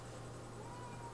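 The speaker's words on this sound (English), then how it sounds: "My cat is freaking out because he doesn't like it when I talk to people" A pet cat meows, a faint, thin cry rising from the near-continuous hum and hiss of an indoor room.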